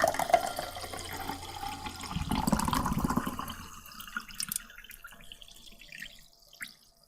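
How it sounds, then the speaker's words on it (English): Sparkling water, plain LaCroix with no flavoring, pours into a glass in a close, bubbly rush that swells midway and then thins into faint fizzing and scattered drips. "Again, I am drinking LaCroix because Winco didn't have any other brands"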